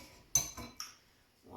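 A metal potato masher set down among the dishes while making potato soufflé, giving a bright clink followed by two lighter knocks, close and brief, before a faint start of sound at the end.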